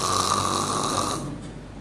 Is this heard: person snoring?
yes